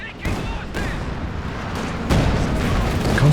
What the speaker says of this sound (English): A bit of a Zis barrage, got the incendiary artillery coming down